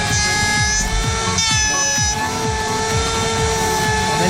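A woodworking router motor spins up to speed, giving a loud, steady, high-pitched whine with layered tones over a rough mechanical rumble, with no talking.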